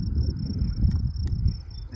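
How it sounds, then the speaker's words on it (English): A knife cuts through a Columbian ground squirrel's skull, giving two sharp, brief bone cracks close by, set against a steady outdoor cricket chirp and low rumbling background. "you can hear the bone crack right there"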